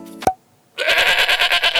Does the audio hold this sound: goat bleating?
yes